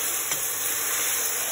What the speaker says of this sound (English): Okay, so I'm stirring this around, and it only takes about a minute.